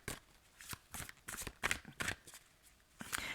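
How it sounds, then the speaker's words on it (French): Cards from a Dixit deck being handled and drawn, a series of short papery flicks and slides in irregular bursts, close and fairly quiet, with no voice. "je vais prendre une carte du Dixit pour en savoir un petit peu plus"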